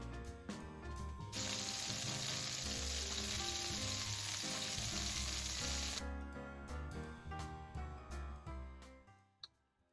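Fish fries in a pan with a loud, steady sizzle and crackle that swells into a dense hiss for several seconds, then eases back amid occasional clinks and stirring, with no one talking.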